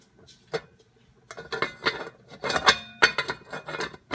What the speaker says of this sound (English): Now I'm going to put the lid back on and let it cook.